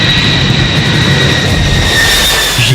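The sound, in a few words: US B-52 bomber aircraft flying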